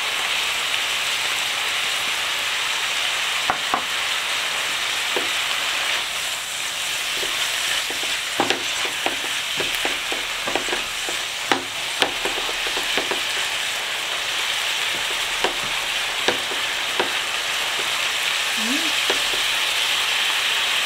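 Mushrooms frying in a pan with parsley, a continuous hissing sizzle with scattered light clicks and scrapes of stirring throughout, close and steady.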